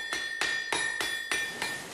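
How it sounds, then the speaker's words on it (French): A water-driven 300 kg trip hammer pounds iron in steady rhythm, five sharp ringing metallic blows about a third of a second apart, each with a bright clanging decay, loud and close. "La force de l'eau actionne une roue qui fait tourner un arbre à cames, qui à son tour actionne un marteau de 300 kg"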